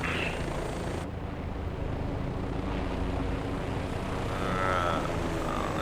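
An OH-58 Kiowa Warrior helicopter flying in the DCS flight simulator, its engine and rotor giving a steady, loud, unbroken drone with a broad rushing hiss throughout.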